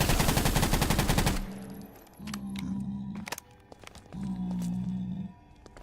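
A rapid burst of automatic gunfire rattles loudly for over a second while shooting at creatures in a video game, followed by lower, drawn-out creature groans and scattered sharp clicks.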